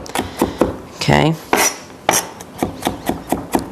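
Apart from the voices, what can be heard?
chopping garlic with a knife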